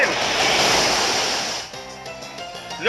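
The Waterfall attack in Pokemon Omega Ruby and Alpha Sapphire, a loud rushing burst of crashing water that swells, then fades into quieter game music.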